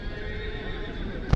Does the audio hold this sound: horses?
yes